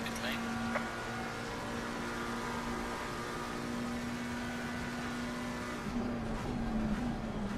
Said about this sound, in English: There's a car exiting pit lane.